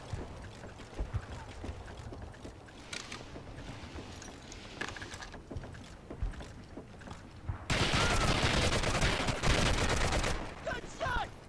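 Gunfire from Medal of Honor: Heroes, a steady crackle of shots under game ambience, building into a dense, louder burst of rapid fire near the end.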